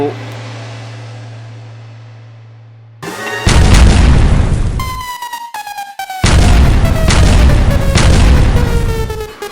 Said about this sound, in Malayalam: പൊട്ടേണ്ടത് പൊട്ടിയാൽ ആരും ഞെട്ടും പ്രശസ്ത കമ്പനികളുടെ ഗുണനിലവാരമുള്ള പടക്കങ്ങൾ